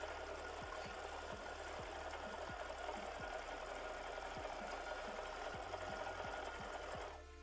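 A sewing machine stitches binding onto a quilt, running in a steady fast motorized hum with regular needle thumps, close and continuous, then stopping abruptly at the end.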